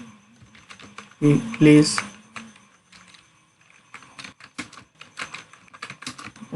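Quick clicking keystrokes on a computer keyboard as an error message is typed while writing a C# program, with a loud burst of keys early on and lighter scattered taps afterward, and someone speaks briefly.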